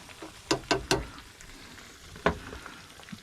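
Crabs frying in hot oil for a crispy crab dish, with a bubbling sizzle that flares in several sharp crackling bursts, close and fairly loud, and no talking.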